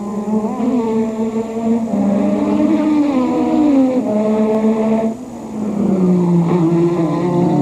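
Nigel Mansell's Formula 1 car at the 1986 Australian Grand Prix, a loud, high-revving engine whining up through the gears with sharp pitch sweeps and one brief dip as it shifts, continuous and close.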